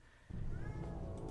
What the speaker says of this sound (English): Ignore the cat that's trying to get my attention.